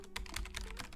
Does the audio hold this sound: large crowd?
no